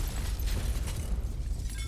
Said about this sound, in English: Suddenly the door that was in front of him was blown off its hinges with a tremendous explosion